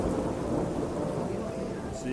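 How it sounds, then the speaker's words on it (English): A thunderstorm rolls in over a lake at a fishing venue, with a continuous deep rumble of thunder and steady rain, loud and enveloping with no break. "as the first of many storms rolled in"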